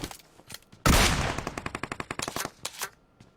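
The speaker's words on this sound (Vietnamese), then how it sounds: "Bắn nhau rồi." Rapid bursts of automatic gunfire ring out in an online shooting game, a loud blast followed by a rhythmic string of close shots, then scattered fainter pops.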